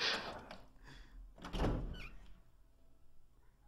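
A door opens in the Resident Evil 7 video game, with a heavy thunk followed by a sliding, grinding movement and a second solid knock, close and fairly loud, then fading to quiet.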